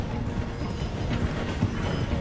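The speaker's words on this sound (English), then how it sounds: "The train is slowing down to go through the station." A slowing train passes through a station in the game Red Dead Redemption 2, a steady dense rumble with rhythmic wheel clatter and clip-clop-like knocks running throughout, fairly close and continuous.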